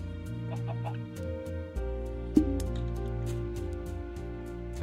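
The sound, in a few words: chicken clucking in the video game Minecraft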